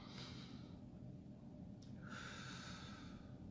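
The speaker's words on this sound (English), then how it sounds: "Let's take a good healing deep breath in." A slow, deep breath drawn in through the nose, soft and close, with an airy rush that swells and then eases, alone in quiet surroundings.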